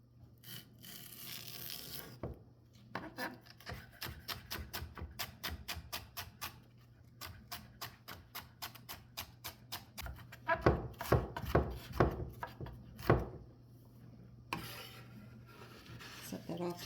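Knife chopping vegetables small on a board for a Bolognese sauce, a long run of quick, regular near taps that turn heavier and more spaced toward the end, with a low steady hum beneath.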